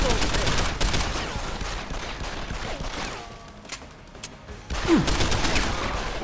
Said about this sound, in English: I just fucking shot him in the head by accident.